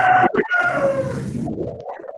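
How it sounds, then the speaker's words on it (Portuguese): A rooster crows once at close range, a loud drawn-out cock-a-doodle-doo that rises and then trails off, heard alone without talk. "esse galo acordou atrasado"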